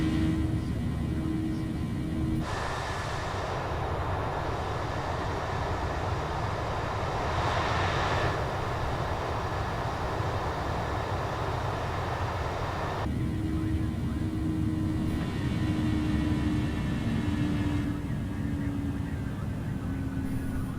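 Airbus A319 jet engines climbing in Microsoft Flight Simulator on Xbox Series S, a steady loud cockpit drone with a constant tonal hum, shifting in timbre in blocks over time, with no speech.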